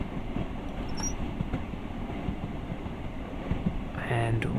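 Class 166 DMU diesel train in Train Sim World rolling slowly over a track crossover, a continuous rumble of wheels with faint clicks and a brief squeal near the end.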